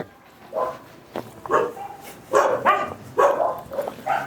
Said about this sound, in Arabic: بس الكلاب هنا أليفة جدا وبيرحبوا بيك يعني، ودودين كده ومع بعض